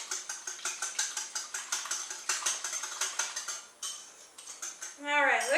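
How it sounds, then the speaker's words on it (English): Rapid rhythmic clinking of a whisk against a bowl as an egg is beaten into a yeast mixture for bread, steady strokes close up, pausing briefly before a short scrape and a brief voice at the end. "now I'm going to whisk in an egg into this yeast mixture"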